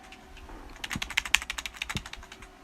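Fingers tap quickly on a computer keyboard, a quiet, uneven run of crisp key clicks with a few louder strokes, no voices over it.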